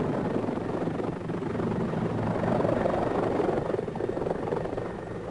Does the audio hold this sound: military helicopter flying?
yes